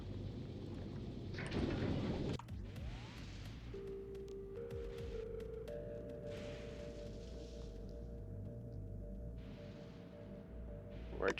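Stormy weather on Fulgora in Factorio: a dull rumble of thunder and steady rain beneath layered synthetic hums and tones, with a sharper crack near the end.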